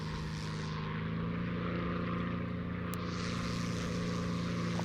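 A propeller plane drones steadily through a turn in the video game War Thunder on PS4, its engine a constant, loud hum that holds level from start to finish with no voices.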